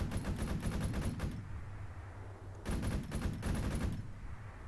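Automatic weapon fire in the military video game Arma 3, two long rapid bursts of gunshots separated by a short pause, loud and close.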